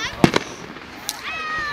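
Fireworks bursting over Scotts Valley, two sharp close bangs followed by a fainter pop and fizzing crackle, with a voice speaking over the bursts.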